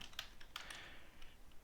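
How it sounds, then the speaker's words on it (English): Quick bursts of keystrokes on a computer keyboard as a tag name is typed, soft and close, a few clustered clicks with short pauses between them, no voices. "So to assign a tag, you just start typing the name"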